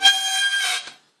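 A single bowed note on a violin's open E string, muffled by an accidentally touching finger, sounds thin and buzzy, its tone dulled and scratchy, fading out after about a second.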